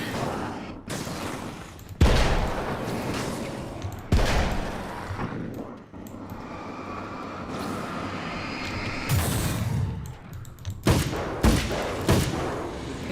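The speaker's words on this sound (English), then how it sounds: "One too many shots." Gunfire in the video game Alan Wake: American Nightmare, a series of loud, sharp shots spread across the stretch, some in quick clusters, over a steady rumbling game background.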